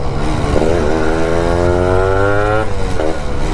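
A Yamaha RX two-stroke motorcycle ridden onto a highway gives a loud, buzzing engine note that climbs steadily in pitch as it accelerates, dips, then picks up again, close and continuous throughout.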